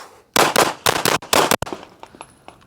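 A Walther PDP Compact pistol fires a rapid string of about six loud, close shots in quick succession, the reports overlapping with ringing echoes before a quieter tail of range ambience and faint clinks.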